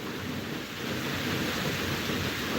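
Steady rain falling outside, a dense, even hiss of drops with a low rumble underneath, continuous and moderately loud throughout with no voices.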